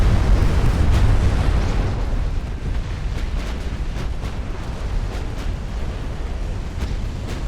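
A battleship's forward magazine detonates in a naval combat game set among 1890s-era hulls, producing a heavy low rumbling boom that decays into a long sustained roar with scattered sharp crackles and distant secondary pops, no voices over it.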